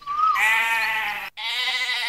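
Sheep and goats bleat up close, one long wavering cry followed after a brief gap by another, loud and clear with nothing else behind them.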